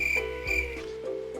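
Crickets in the game Rimworld give a few tonal, croaking chirps in slow succession over a low steady hum.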